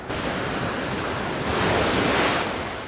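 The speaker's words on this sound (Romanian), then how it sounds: "Valurile sunt mari." Big sea waves break on a beach in a steady loud roar of surf that swells toward the middle, with wind buffeting the microphone and no one speaking.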